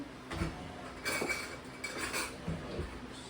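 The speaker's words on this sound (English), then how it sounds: "We're going to fill our jars. Let me get a scoop." Corn being scooped into glass canning jars in a home kitchen, a few scattered clinks and scraping knocks of utensil against glass and pot, moderately close and with nobody talking.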